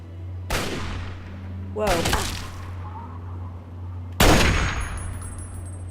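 Three loud sniper rifle shots in Fallout 3, each a sharp crack with a long decaying tail, spaced irregularly over a steady low game hum, with a brief spoken exclamation among them.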